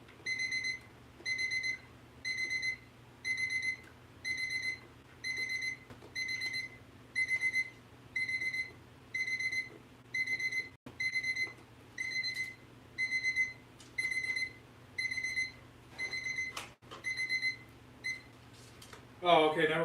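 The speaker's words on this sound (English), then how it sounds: "I can't turn the alarm off" Alarm clock with a broken switch ringing without stopping, loud bursts of high electronic beeping repeating in an even on-off rhythm for about twenty seconds, with a few clicks and fumbling noises near the end.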